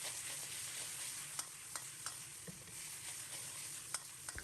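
Eggs and pork are stir-fried in a wok for vinegar-glazed muxu pork, giving a steady soft sizzle broken by scattered light clicks and scrapes of a ladle against the pan.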